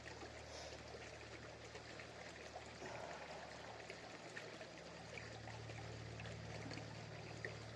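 Lynx Creek in Arizona runs full, giving a steady, close rushing and trickling of stream water over rocks that continues unbroken throughout.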